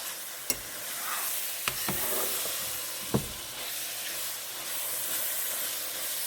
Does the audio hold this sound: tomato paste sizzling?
yes